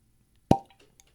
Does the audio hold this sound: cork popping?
yes